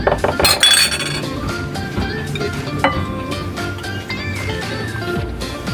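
Metal utensils clink and scrape steadily against a bowl while an ampalaya (bitter gourd) and cucumber salad with sliced onion and pepper is tossed, close and continuous with repeated light taps.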